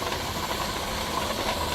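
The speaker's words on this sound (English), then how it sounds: "Careful, that's hot steam" Steam hisses steadily from a Presto pressure canner, a loud, continuous, even rush with no pauses.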